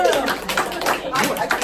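An audience at CC Con breaks into dense, sustained applause, a loud wash of many hands clapping that fills the whole short moment.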